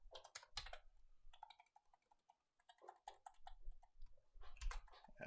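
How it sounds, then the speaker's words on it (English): Quiet clicking keystrokes on a Windows computer keyboard while a degree symbol is entered, irregular clusters of taps separated by short pauses, close and alone with no voices. "how I'm doing the degree symbol on a Windows keyboard, at least, you hold down the Alt key"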